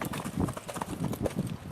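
Hooves of Morgan horses clip-clop in a quick, busy rhythm during cow work and roping, moderately close, with some faint background noise.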